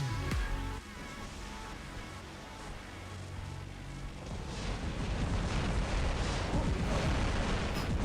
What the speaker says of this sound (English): That's an energy weapon.